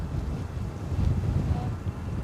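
Wind buffets the microphone at Edinburgh Airport, a steady low rumbling whoosh that holds through the whole short stretch, with no clear voices.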